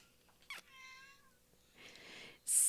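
A cat gives one clear, mid-length meow, bracketed by short bursts of noise and a louder hiss at the very end.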